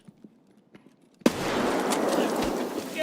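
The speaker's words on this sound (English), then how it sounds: "Holy shit, that was a good nade." Grenade explosion in the shooter game Escape from Tarkov: a sudden loud blast erupts after quiet, and a broad roaring rumble holds for a couple of seconds.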